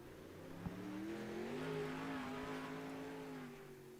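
A safety car drives on a dirt sprint car racetrack, its engine humming steadily with a slight rise in pitch as it accelerates past at moderate distance, fairly quiet and without voices.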